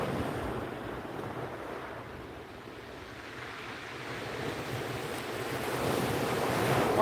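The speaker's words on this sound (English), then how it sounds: "The wave nearly came up to my ankles." Surf washing in along a beach, a steady broad rush of breaking waves that swells louder toward the end, with wind buffeting the microphone throughout and no voices.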